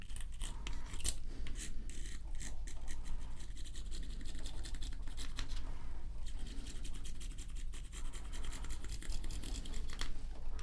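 A comb drawn through hair during an ASMR haircut roleplay makes close, crisp, rhythmic scratchy strokes that repeat steadily throughout, each pass a brief bristly rasp.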